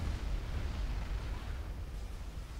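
A bomb explodes in Supreme Commander: Forged Alliance, a deep rumbling boom rolling on steadily at low volume with no talk over it.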